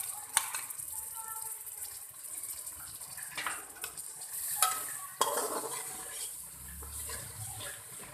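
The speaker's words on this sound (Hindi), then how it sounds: "मसाले को अच्छे से भून लेंगे।" Spice masala with finely chopped tomato being stirred and roasted in a pan for daal mash, scraping and sizzling steadily with a couple of sharper knocks of the spoon, fairly quiet and close.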